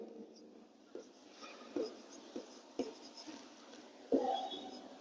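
A pen scratches across paper while a math solution is written out, with short, quiet strokes and taps coming in irregular bursts over faint room hiss.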